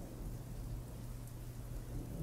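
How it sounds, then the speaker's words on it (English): A storm rolls through a Wild West night with steady rain hiss and a low thunder rumble, continuous and fairly quiet with no voices. "A storm is coming"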